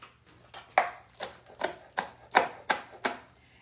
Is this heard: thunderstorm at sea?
no